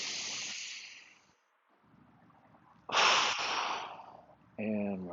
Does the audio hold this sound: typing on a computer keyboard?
no